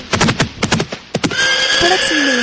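A horse whinnies in a series of sharp neighs with hoof clops, then reins to a halt as a sustained ringing tone fades in, loud and close with no talk.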